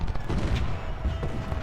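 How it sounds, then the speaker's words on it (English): Artillery canister fire in the Civil War strategy game Ultimate General: Civil War, loud, dense rumbling booms and crackling blasts rolling together without a break. "Bloody artillery, bloody canister fire."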